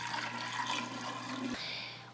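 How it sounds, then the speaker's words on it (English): Kombucha tea pours into a glass pickle jar in a continuous, close, gurgling splash that shifts slightly in tone near the end, with no talking. "We're just going to transfer the tea into my jar without making a mess."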